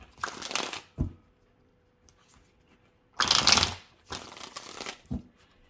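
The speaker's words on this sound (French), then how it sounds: "je ne tire pas les cartes, je vais les faire sauter sur cette partie-là" Oracle cards are shuffled and dropped onto a mat in short bursts of rapid riffling and flapping, with a couple of soft slaps and quiet pauses between the bursts, close up.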